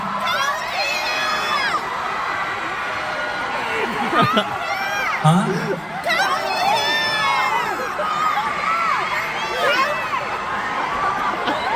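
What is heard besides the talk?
concert crowd yelling and cheering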